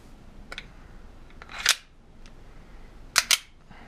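Several sharp shots ring out from a firearm, a few spaced single reports followed by a quick close pair, loud against a quiet background with no talking.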